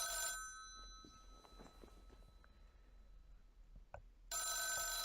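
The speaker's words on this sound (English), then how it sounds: "Look at that old rotary phone" An old rotary telephone in the video game This Is The Police rings in a loud metallic burst, falls quiet for several seconds while faint soft knocks and steps pass, then starts ringing again.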